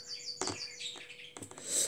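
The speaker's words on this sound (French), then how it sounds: "Dis donc, mes oiseaux, ils sont en forme là." Pet birds chirping indoors, a bright flurry of short tweets and calls close by, rising to a louder burst at the end with no voices.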